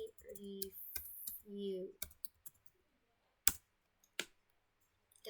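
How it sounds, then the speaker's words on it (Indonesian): Several sharp computer keyboard keystrokes tapped out as a command is typed, spaced and fairly crisp, following an earlier stretch where a person talks. "terus kita ketik lab start CLI"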